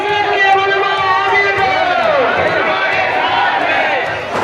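A large protest crowd in Malegaon, India, shouting loudly with raised voices in a continuous roar and chanting-like surges. Several voices stand out near the listener over the general din.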